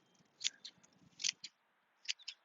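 Hand shears snip at a myrtle topiary, giving quiet, crisp metallic clicks in small clusters of two or three cuts with short pauses between.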